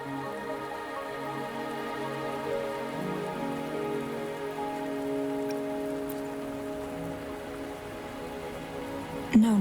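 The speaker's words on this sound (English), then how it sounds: "Are you trapped here by the rain?" Steady rain falling on surfaces in the video game Wuthering Waves, a dense continuous patter under sustained tonal background music, ending with a brief louder hit.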